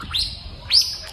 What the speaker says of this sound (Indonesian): Indah banget ada suara burung tuh